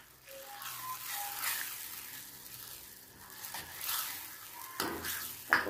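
Beef going into a pan for curry beef, with soft sizzling and frying hiss, stirring scrapes and light pan clatter, fairly quiet with a sharper clank near the end and no talk.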